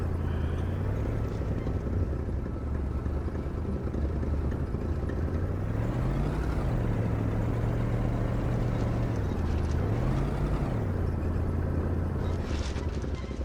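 A car in the video game Kona drives with a steady engine drone, rising and falling in pitch twice as it shifts through gears, loud and continuous throughout with no talk.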